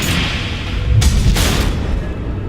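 Missile explosions in the Batman Telltale Series game, loud low booming blasts with a sharp burst around the middle, rumbling continuously under heavy background noise.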